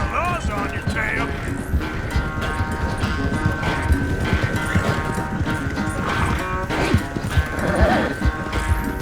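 Horse hooves gallop in Red Dead Redemption 2, a steady rapid clip-clop under music and talking voices throughout.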